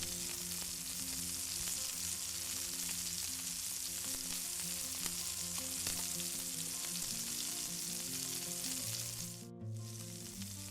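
Pieces of flour-coated chicken crackle and sizzle steadily in hot oil in a pan, close up and continuous, with music playing underneath and no speech.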